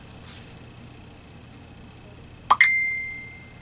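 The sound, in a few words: text message notification sound on a phone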